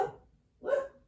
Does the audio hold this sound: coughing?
no